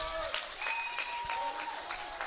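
Steady applause from a crowd at an international masters powerlifting championship, urging on a lifter before his squat attempt; continuous clapping of moderate loudness with a commentator's voice over it.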